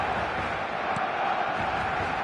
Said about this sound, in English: The crowd are calling for this to be put to bed.